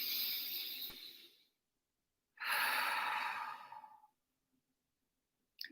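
Two slow, breathy exhales during a guided breathing exercise as raised shoulders are lowered, each soft airy sigh lasting over a second with a silent pause between, close and alone without talk.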